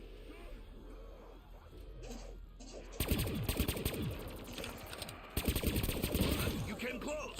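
Rapid automatic gunfire from a weapon in Black Ops 6 Zombies cracks out in two loud sustained bursts, preceded by quieter game sounds, with a voice talking faintly underneath.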